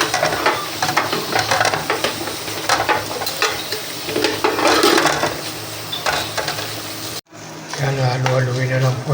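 Grilled chicken sisig being stirred in a hot pan, with steady sizzling and scraping of a utensil through the meat; a brief silent break near the end, then the sizzle resumes under background music.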